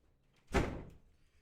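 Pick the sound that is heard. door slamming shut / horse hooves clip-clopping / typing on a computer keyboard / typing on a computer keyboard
door slamming shut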